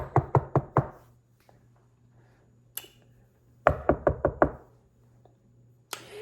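Knocking at a door, two clear bursts of five sharp raps each, separated by a pause and a low hum, with a final faint tap at the end.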